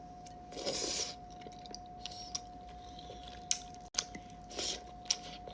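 Someone eating squid adobo, with a few short bursts of close, wet chewing and biting separated by quiet pauses and a steady faint background hum.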